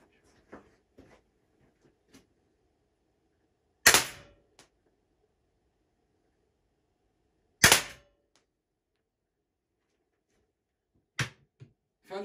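Umarex Glock 17 Gen5 T4E .43 pistol firing steel balls, with two loud sharp shots several seconds apart followed by two quieter cracks near the end, separated by near silence and faint small handling clicks.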